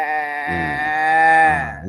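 A human voice imitates a goat, holding one long, nasal, wavering bleat that rises slightly and then drops off, loud and close with nothing else around it.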